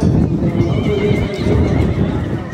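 Spanish horses at an armed forces breeding stud, a loud nearby whinny over a constant rumble of hooves and movement, with faint voices in the background.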